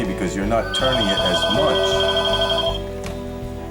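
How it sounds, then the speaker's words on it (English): A telephone rings in a guitar shop, repeated electronic ringing tones under someone talking close by. "And that's the phone, and of course this is a place of business,"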